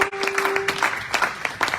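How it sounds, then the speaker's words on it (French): A church congregation breaks into loud, sustained applause and cheering, with scattered voices rising through the dense clapping for nearly two seconds. "Est-ce qu'on peut acclamer le Seigneur?"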